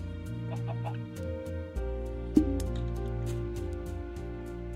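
A Minecraft chicken clucks in short, soft bursts over steady background game music, with a few small pops and drip-like game effects and no talking.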